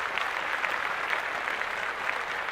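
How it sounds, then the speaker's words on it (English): A crowd applauds steadily and evenly, a dense, sustained clapping at moderate level that holds for the whole stretch with no voices on top. "Give yourself a round of applause."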